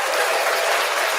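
Steady applause from a live talk-show audience greeting a guest as she is brought up, continuous and dense for the whole moment without breaks.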